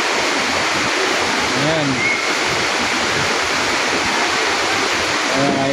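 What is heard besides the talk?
Busay Falls waterfall in Malilipot, Albay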